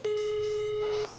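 A single sustained tone from a mobile phone during a call, sounding clean and steady for about a second, close and loud, with nothing else around it.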